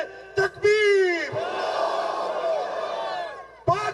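A crowd at a political rally in Karachi shouts a slogan back in unison, a loud, drawn-out roar of voices that follows a quick call and ends with a sharp burst.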